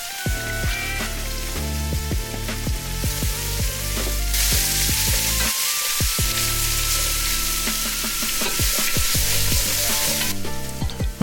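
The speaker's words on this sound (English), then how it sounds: "we are going to saute. We want to get this so that the onions are a translucent" Onions sautéing in hot oil in a nonstick pot, a loud steady sizzle and crackle throughout with frequent sharp pops and stirring scrapes, close and continuous with no talking.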